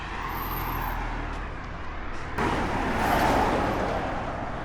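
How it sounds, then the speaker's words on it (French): A car drives past on a roadside in Algeria, a steady broad road rumble that swells as it passes close by, with no voices. "Bon, première voiture."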